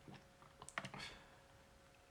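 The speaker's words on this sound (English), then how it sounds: "It's always difficult typing with one hand" Keys tapped on a computer keyboard by one hand, a few sparse irregular clicks and short bursts, fairly quiet and close against a faint steady hum.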